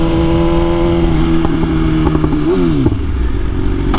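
A BMW S1000RR M Package motorcycle engine idles loud and close with a steady hum, then the pitch sags as revs drop, with a few clicks and clatters over the drone.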